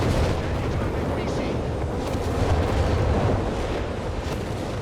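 Nebelwerfer rocket artillery fires in a Company of Heroes 3 battle as a dense, continuous roar of launches and explosions, loud and unbroken, blended with other battlefield noise.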